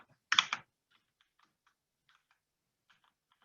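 Someone typing code on a computer keyboard: one louder cluster of keystrokes, then sparse, faint, irregular taps in a quiet room.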